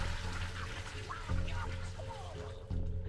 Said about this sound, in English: We can flush the toilet.